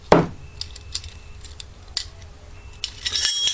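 Metal measuring cups scoop DuraCoat coating color into a hard plastic mixing cup, giving a sharp clink at the start, light scraping taps through the middle and a brighter rattle near the end, close and alone.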